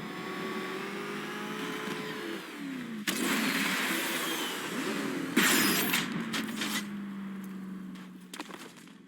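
Car engine in Batman: Arkham Knight, a steady mid-pitched drone with rising revs and whooshing bursts as it speeds along, loud and continuous throughout.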